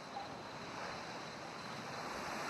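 Ocean waves wash in as a soft, steady hiss of surf with a faint wind rush, distant and even throughout.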